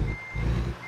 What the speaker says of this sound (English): Man, I used to hate people with backup beepers too.